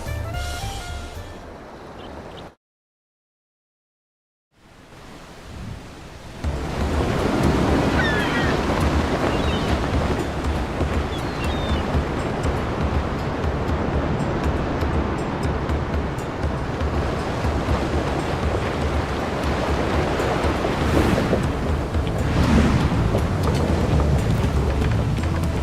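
Ocean waves wash against a sailing ship in Final Fantasy XIV, a broad, steady surf and wind rush after a brief silent gap, loud and continuous with gusts swelling near the end.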